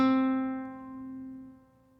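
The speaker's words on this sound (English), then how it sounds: "Then you're going to pluck the 5th fret of the G string." A single guitar note plucked at the 5th fret of the G string rings out clearly on its own, with a bright attack and a steady sustain that slowly fades away.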